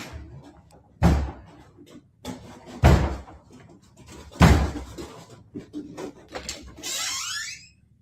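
Doors bang shut three times at roughly even intervals, each a loud close thud with a ringing tail, between quieter shuffling sounds, ending in a rising squeal.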